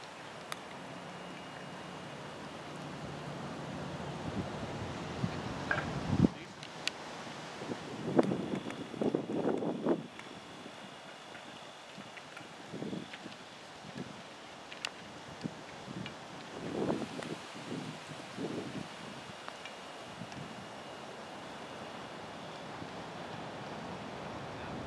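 Steady wind gusting across an open outdoor golf course at a college tournament, a broad continuous rush with a few brief knocks and rustles in the middle, no voices.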